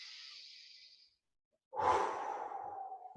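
A long, soft exhale during a hamstring and IT band stretch, then a pause and a stronger, airy breath out that tails off slowly, close and alone with no talk.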